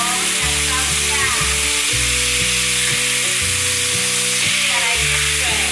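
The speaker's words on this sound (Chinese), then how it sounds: "锅内再放入一些油，放入2汤匙的酱油，酱烧一下" Soy sauce hits hot oil in a cooking pot and sizzles loudly and continuously, with a dense crackling hiss throughout and a low hum underneath.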